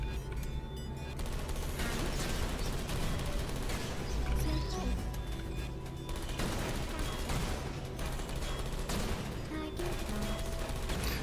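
Tommy gun turrets in the video game Portal Stories: Mel fire dense, sustained bursts of rapid gunfire with metallic crashes, steady and fairly loud over a game music bed.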